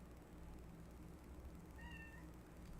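A pet cat gives a single faint meow indoors over a steady low hum, with no one talking.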